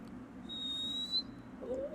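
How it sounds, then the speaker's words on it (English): A person whistles through the gap in their front teeth, producing a thin, steady high-pitched tone held for about a second, then a brief rising whistle near the end, over faint room noise. "I can like whistle through my gap"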